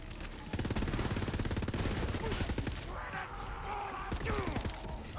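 Rapid automatic gunfire in the video game Borderlands 3, a fast loud stream of shots for about two seconds, then scattered bursts and impacts mixed with game effects and faint talk.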